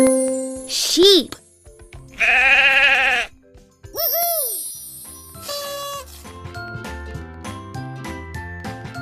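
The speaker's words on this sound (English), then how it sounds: "Sheep." Sheep bleat in a children's jigsaw puzzle game, several cartoonish bleats in bursts alongside bright chimes and tinkling jingles, with a cheerful voice and plucky game music between them.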